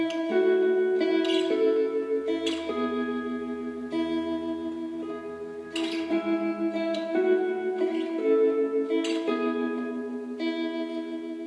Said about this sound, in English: the open E string is ringing out